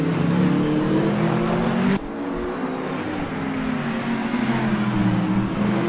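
Ferrari 488 GT3 and other GT3 race cars in a sim racing championship round at Long Beach, engines droning loudly and steadily throughout with a dense layered tone, one car's note cutting out abruptly partway as others carry on.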